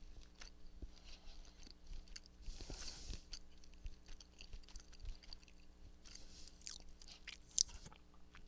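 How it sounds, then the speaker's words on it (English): Close, quiet munching on cookies, with irregular crunchy bites and chewing sounds spread over several seconds against a faint background hum. "I know you can hear me munching on cookies"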